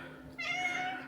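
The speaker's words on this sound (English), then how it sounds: "She talks to me, this cat." A pet cat named Leia gives a single short, close meow, a rising then steady tonal cry lasting under a second after a quiet indoor moment.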